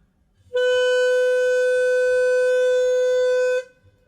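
A single sustained B note on a Nuvo DooD, a plastic recorder alternative with silicone keys, held steady and clear for about three seconds, bright and reedy with rich overtones, close and alone.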